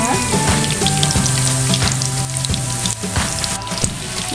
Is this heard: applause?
no